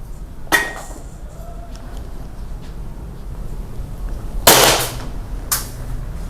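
Airsoft rifle set to single-fire for a velocity test lets off three sharp, separate shots, one early and two close together near the end, loud and crisp over a low steady room hum.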